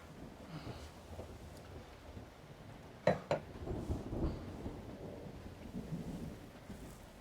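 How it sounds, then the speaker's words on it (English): Heavy rain pours steadily outdoors during a thunderstorm, a constant wash of noise with a sharp double thunder crack around the middle and low rumbles after, fairly faint and distant. "It's pouring outside."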